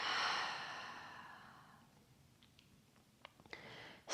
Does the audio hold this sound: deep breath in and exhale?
yes